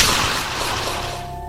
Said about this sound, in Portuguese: escutamos um estampido de espingarda